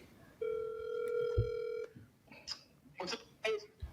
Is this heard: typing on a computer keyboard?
no